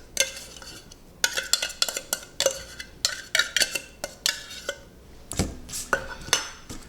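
Canned solid white tuna in water, a 6-ounce tin, is tipped and scraped into a bowl, with a quick series of sharp metallic clinks and knocks from the can and utensil against the dish, close and irregular.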